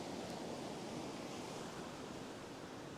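Ocean surf rolls onto a beach at low tide in a continuous broad wash of noise, fairly distant and even, with no talk over it.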